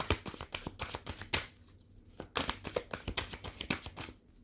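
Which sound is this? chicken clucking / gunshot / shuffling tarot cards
shuffling tarot cards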